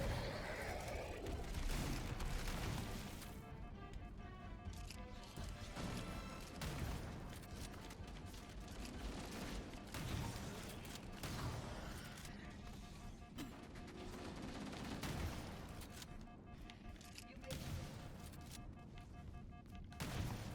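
Rapid gunfire and heavy impacts from the shooter game Halo: Campaign Evolved, in a fight against the Flood, run nearly continuously as dense bursts of shots and crashes with occasional booms, with brief faint talk.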